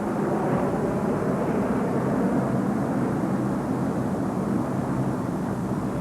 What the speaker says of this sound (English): survivors will have time to react to the noise of the aircraft passing overhead